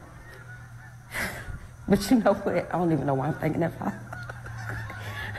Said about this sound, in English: Birds agreeing with me.